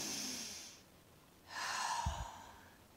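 A person takes a deep breath in and lets it out in a long, audible exhale, close and soft, with a brief nasal puff between, no talk.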